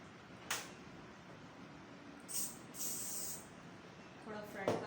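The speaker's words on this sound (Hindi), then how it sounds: "मैंने स्प्रे करके" Short bursts of hair spray hiss from an aerosol can over a backcombed wedding hairstyle in a salon, the first around half a second, then two longer hissing puffs later, with faint brushing and movement beneath.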